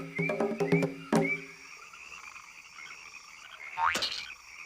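Cane toads croak in a cartoon nature documentary, a cluster of rapid throaty croaks followed by a single rising croak, moderately loud against quiet background, with no talking.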